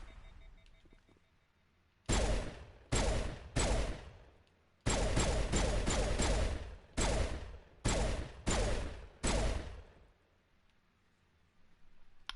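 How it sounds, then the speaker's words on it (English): A pistol loaded with high-explosive rounds fires in Mass Effect Legendary Edition, nine loud booming blasts in uneven bursts, each with a short tail, standing alone over quiet game ambience. "As long as I don't rapid fire my pistol"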